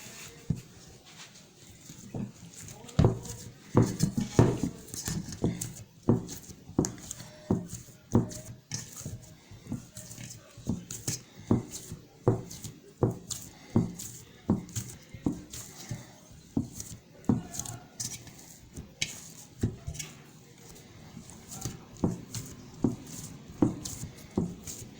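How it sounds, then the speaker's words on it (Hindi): Shawarma bread dough is kneaded by hand on a surface, giving a steady run of soft slaps, pats and sticky squishes, close and rhythmic, with no talking. "आटा गूंथते हैं"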